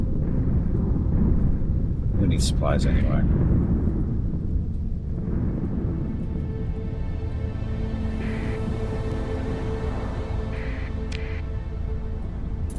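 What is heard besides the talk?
storm thunder in the video game Starsector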